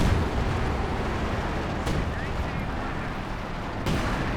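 Artillery shells strike in a Company of Heroes 2 battle, a dense rumbling barrage with two sharp impacts cracking out over continuous explosive noise, loud and close.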